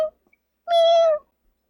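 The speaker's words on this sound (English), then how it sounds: "We had a cat in the studio." A cat in a podcast studio gives a single clear, drawn-out meow, loud and close, after a brief short sound at the start and near silence around it.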